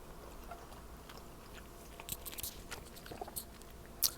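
Close, soft chewing of thick, wavy udon noodles from a tempura udon soup bowl, with quiet wet bites and a few sharper crunchy clicks scattered over several seconds.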